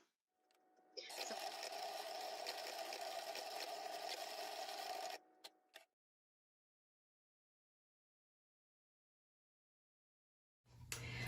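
A Cricut Explorer 3 cutting machine slices through removable smart vinyl with a steady, whirring mechanical hum lasting about four seconds, then stops abruptly; near silence follows before a brief noise returns at the end.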